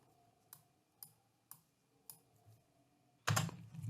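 Mouse clicks while editing a logo on a computer: several sharp, quiet clicks spaced about half a second apart in a quiet room, followed by a louder burst of rustling noise.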